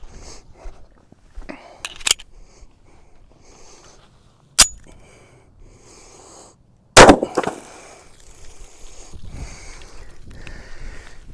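A 10mm Winchester USA Ready round fired at a row of milk jugs: a few sharp, loud gunshot cracks stand out against quiet outdoor background, the last followed by a brief rattling tail.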